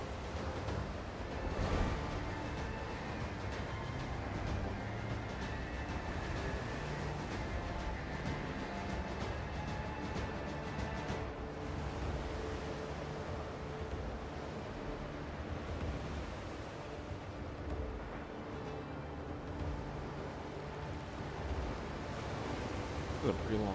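A sailing ship crossing the open ocean in the video game Windrose, with a steady broad wash of waves and wind noise running throughout at an even level and no clear individual breakers.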